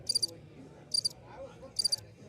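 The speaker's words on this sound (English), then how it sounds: "When would we use the crickets button?" A soundboard crickets button plays a chirping effect, three quick bursts of bright, high trilling at an even pace, with quiet murmuring and room noise underneath.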